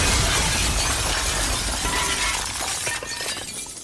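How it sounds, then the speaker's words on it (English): A boat smashing into a brand new wooden jetty in a shipwreck video game: a loud, sustained crashing and shattering roar that fills nearly four seconds, tapering slightly near the end. "You just smashed brand new jetty."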